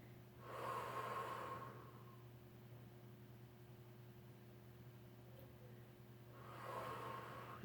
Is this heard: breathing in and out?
yes